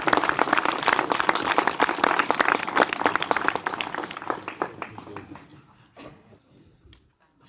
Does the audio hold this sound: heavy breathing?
no